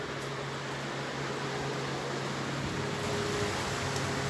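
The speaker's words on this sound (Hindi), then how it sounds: "गाइस कूलर चल रहा है" An air cooler runs indoors with a steady whooshing fan drone and a faint constant hum, fairly quiet and unchanging throughout.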